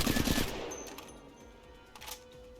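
Spitfire light machine gun firing in the shooter game Apex Legends: a short rapid burst of shots at the start, then a fading tail with a couple of faint pops, no talk.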